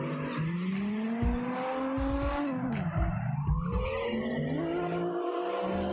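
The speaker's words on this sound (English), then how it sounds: "I'm trying to control my throttle and see if I could just get into drifting with whatever speed" A car in the CarX Drift Racing Online game drifts with a loud engine whine rising and falling as throttle shifts, accompanied by repeated tire squeals and skidding screeches, close and continuous.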